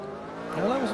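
In the Formula Retro video game, a race car engine climbs in pitch on a standing start as the wheels spin, a loud close rising whine that swells toward the end.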